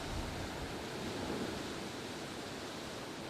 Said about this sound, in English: These winds just whipping up these waves